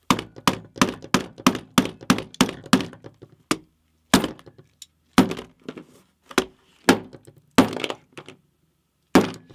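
Hard, solid impacts strike a Nintendo Switch 2 console in a rapid run of about ten sharp thunks, then several more spaced-out blows, each loud and close with a brief crack, and no talking.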